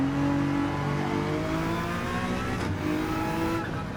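A GT3 race car engine in Gran Turismo 7 holds a steady, loud revving drone with rising harmonic tones as the throttle is fed in, continuous for the whole stretch with no talking.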